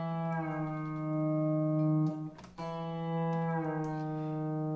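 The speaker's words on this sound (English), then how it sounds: "The knee lever we're going to be using is the one that takes your E notes, strings 4 and 8, and lowers them a half tone from E to E flat." Sustained pedal steel guitar chord as the knee lever lowers the E strings to E flat, a smooth slide of pitch on ringing, harmonically rich notes that swell and bend without any talk.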